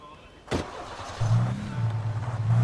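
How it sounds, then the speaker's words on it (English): A car door thumps shut once, then an engine starts and settles into a steady low drone while driving in Alan Wake Remastered, close and moderately loud, with no talking. "let's jump in this other car and try to drive it better"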